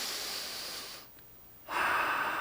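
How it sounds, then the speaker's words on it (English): Close, audible breaths during a yoga class focused on twisted hips: a long steady airy breath, a brief near-silent pause, then a stronger, louder breath, with no talking. "And we're breathing"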